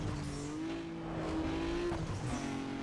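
A race car in Need for Speed Underground accelerating uphill, its engine note rising steadily as it pulls through the gears, fairly faint and unbroken by speech.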